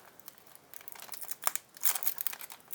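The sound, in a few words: opening a McDonald's Pokémon card booster pack wrapper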